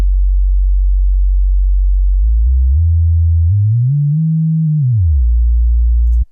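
A low middle C note from the Waves Flow Motion soft synth plays as a pure, deep sustained tone that glides upward, bends back down and then cuts off abruptly; it sounds alone, loud and clean.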